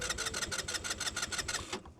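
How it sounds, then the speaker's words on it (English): A motorbike engine fails to start, sputtering in rapid, regular chugging bursts like a sewing machine for almost two seconds before cutting out into near silence, fairly quiet overall. "My bike wouldn't start."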